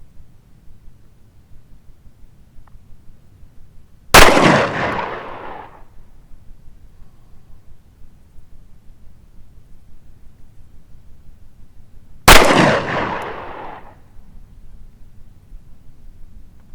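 Two sharp, loud pistol shots from a Tanarmi TA-90 9mm fired on a range, spaced about eight seconds apart, each with a short ringing decay over a quiet background.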